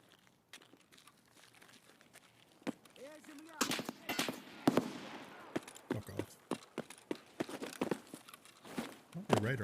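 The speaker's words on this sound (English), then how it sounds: "It sounded like an AK." AK rifle gunfire in Escape from Tarkov, heard as scattered sharp reports from mid distance, with crunchy footsteps and handling noise between them and talk in the background.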